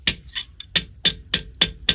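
Metal being hammered while foldforming a line fold: seven crisp, ringing blows in a steady, even rhythm, close and loud, with quiet gaps between strikes and no speech.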